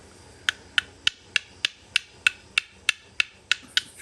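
A stone biface edge is trimmed with antler in a steady series of about twelve sharp, crisp taps and scrapes, evenly spaced and close, with no talk.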